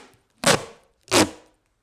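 Scissors cutting duct tape in two quick, close snips about half a second apart, each a short crisp crunch followed by quiet.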